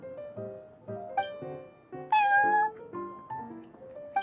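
Prince, the cat in the Genshin Impact video game, gives a series of clear, close meows at a steady pace, with one louder, longer meow midway.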